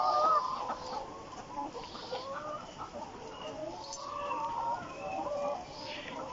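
Layer hens on a poultry farm cluck and chatter continuously, many birds overlapping at moderate distance over a dense, noisy barn background with no clear talk.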